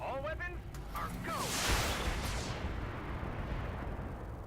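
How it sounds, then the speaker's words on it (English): Mech weapons firing in the BattleTech video game: a broad roaring blast of gunfire that swells and lingers as a rumbling wash, with a brief voice-like chirp just before it. "fire our guns at it"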